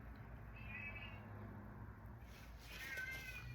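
House cat named George meowing at a distance in a quiet room, two drawn-out, wavering meows separated by a pause, faint against low background hum.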